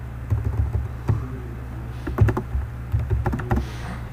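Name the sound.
typing Java code on a computer keyboard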